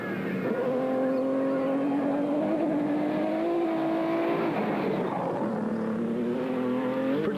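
Nissan Hardbody rally truck engine racing, a steady loud drone whose pitch climbs and drops with gear changes as the truck pushes on at speed.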